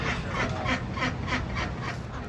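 Several breeder runner ducks at a tropical fruit nursery give a steady series of about six rhythmic quacks, fairly close and moderately loud, with no voices over them.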